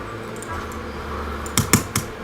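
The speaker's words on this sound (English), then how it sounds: "know what I'm typing there" Three quick keystrokes tapped on a computer keyboard near the end, following a stretch of low background hum.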